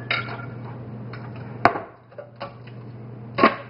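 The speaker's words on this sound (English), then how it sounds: "I'm going to take these Brussels sprouts and I'm going to chop them up to a degree" Brussels sprouts chopped with a knife on a board: a few sharp, separate chops at irregular intervals, close and fairly clear over a steady low background hum.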